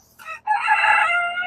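A chicken crows briefly after a short clucking note, a loud, close, raspy call lasting about a second with no voices.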